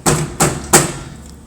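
Metal hurricane shutter banged three times into its track during installation, each hit a loud, sharp thud with a short metallic ring, spaced about a third of a second apart, no voices.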